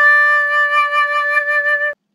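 A single sustained D note on a recorder, played steadily for almost two seconds with a clean, breathy tone before stopping abruptly; close and alone.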